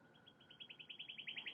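Bird song during a morning breathing and meditation practice: a faint, rapid series of bright, rising chirps that quicken and grow slightly louder, heard alone against a quiet background.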